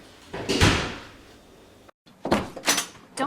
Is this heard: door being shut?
yes